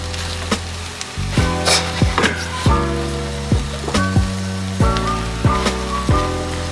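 Cheesy egg omelette frying in a pan, a steady sizzle beneath repeated close clatter and scraping of a utensil against the pan as the pieces are turned, fairly loud with no voices.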